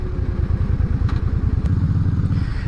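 Suzuki Intruder V800 cruiser engine rumbling steadily while riding, a loud, close, pulsing low throb with a couple of faint clicks, no talk.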